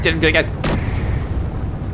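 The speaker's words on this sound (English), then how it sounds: "That's definitely a Gatling on top." A Gatling gun firing in the space game Space Engineers, heard as short, loud bursts of rapid booming shots over continuous rumble, with voices in the background.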